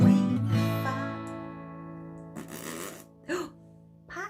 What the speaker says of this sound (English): sometimes we fart